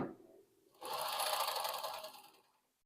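A Consew CN2053R industrial sewing machine runs a zigzag stitch in one short, steady mechanical burst of about a second and a half, close and fairly quiet, then winds down to silence.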